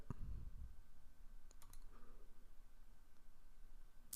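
Mouse clicks during computer account setup: a few small, faint clicks spaced apart in a quiet room, with a low hum underneath and one sharper click at the very end.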